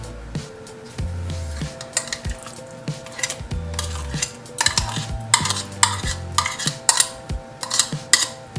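Pumpkin is mixed into cheesecake batter in a bowl, with repeated scraping and stirring strokes and clinks of a utensil against the side, all close and in an uneven rhythm, and low mechanical tones in the background.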